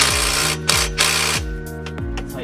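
A tool tightens down exhaust bolts during a Tanabe exhaust install on a Lexus IS300, giving a close, rhythmic mechanical whirring with sharp clicks and short buzzing bursts in a steady pattern, with no talking.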